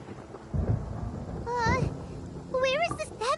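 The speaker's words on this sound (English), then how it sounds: "Paimon hears thunder!" Thunder in the video game Genshin Impact, a low rumble swelling twice under the game's background sound, with a character voice speaking over it.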